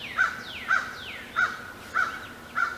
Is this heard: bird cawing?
yes